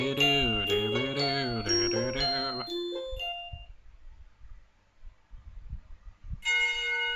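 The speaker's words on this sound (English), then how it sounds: "The bell rings to signal the start of first period" A school bell chime in the visual novel Katawa Shoujo rings a descending sequence of bright tones, then fades, with faint background sounds before the chime starts again near the end.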